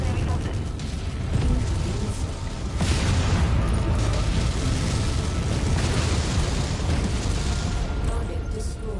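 Centurion mech blowing apart as it is destroyed in Mechwarrior 5, a loud dense boom and rumbling blast that swells near the three-second mark and stays heavy through the clip, with voices talking over it.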